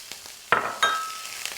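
Sliced bell peppers hit a hot pan and start frying, with sharp sizzling bursts as they drop in, then a steady hiss with light stirring clatter.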